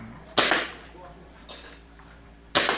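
A gas-blowback airsoft Glock 17 pistol lets off two crisp, close shots about two seconds apart, with a fainter click between them and no talking.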